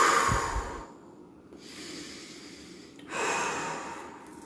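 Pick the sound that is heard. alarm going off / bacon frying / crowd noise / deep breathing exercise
deep breathing exercise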